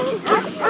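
Police dog Anchor, a trooper's K9, barks and snarls in short harsh bursts close by during a struggle with a resisting suspect in the Alaska woods, with sounds of the scuffle around it.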